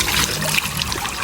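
River water trickles and splashes close by in a short, busy burst of flowing, gurgling sound.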